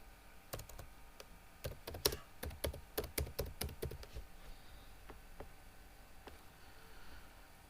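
Close, quiet typing on a computer keyboard comes in a quick run of crisp keystrokes for a few seconds, then thins to a few scattered taps against a soft background hum.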